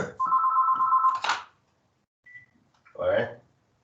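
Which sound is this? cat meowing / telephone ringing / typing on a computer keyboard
telephone ringing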